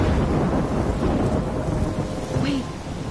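A thunderstorm in the game Life is Strange roars with dense, steady rain, and low thunder rumbles underneath. A faint rising whoosh comes through near the end.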